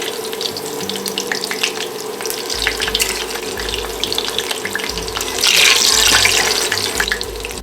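Lentil fritters fry in a pan with a steady, dense crackling sizzle that swells louder toward the end, close up, with low thumps and clatter of cooking beneath and no talking.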